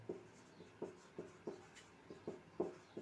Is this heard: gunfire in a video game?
no